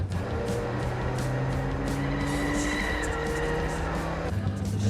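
A car drives through the corners of a track, its engine droning steadily up close, with a rhythmic buffeting and a brief high squeal partway through.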